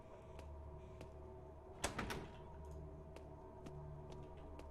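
A door opens in the video game Atom RPG Trudograd with a brief clunk and rattle near the middle, faint against a steady low hum and scattered soft ticks.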